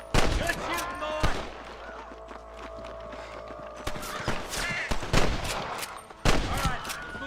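A shootout in the Red Dead Redemption video game, with a loud burst of repeated gunshots at the start, then more shots and sharp cracks near the end. Horse hooves, voices and music sit underneath.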